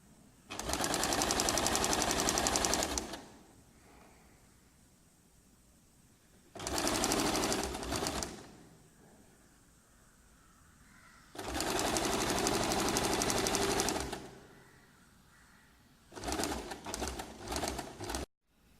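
An electric sewing machine stitches a sleeve border in four loud, fast whirring runs of a few seconds each, separated by quiet pauses with faint bird cooing in the background.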